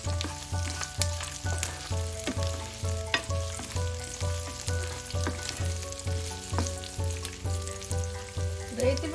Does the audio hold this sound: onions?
yes